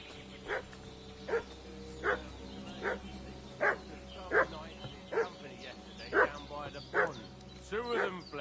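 A dog in the medieval open-world game Kingdom Come: Deliverance II barks repeatedly at a steady rhythm, about ten evenly spaced barks at moderate distance over a low ambient hum.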